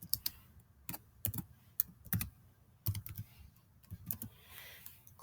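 Typing on a computer keyboard to enter a name, with close, uneven bursts of key clicks and short pauses between words.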